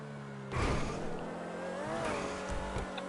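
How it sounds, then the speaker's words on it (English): A car in the racing game GTA Online powers out of a tube and around a corner at high speed, its engine droning and shifting pitch as the throttle is feathered, loud and continuous from start to finish. "Barreling out of the tube, high speed, just slightly feathering the throttle, getting himself nicely round the corner"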